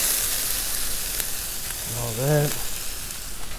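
Vegetables fry in butter on a hot Blackstone griddle, a steady loud sizzle throughout, with a brief spoken word partway through.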